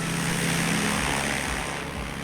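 A Zlin Savage Gravel propeller plane with a modified 2.5 V6 Mustang engine and a 7-foot prop drones steadily in Microsoft Flight Simulator, giving a close, continuous buzzing engine roar with no break.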